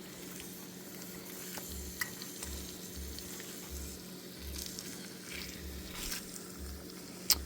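Leftover turkey breast sizzles and browns in a pan, a soft steady frying crackle with occasional pops and stirring, fairly quiet and without talk.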